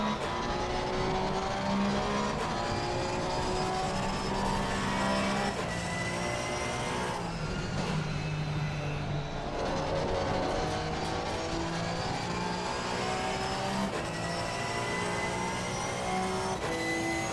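A sim racing game's race car holds sixth gear at speed, its engine a steady, loud, continuous drone with a constant harmonic whine and only slight pitch dips, no talking over it.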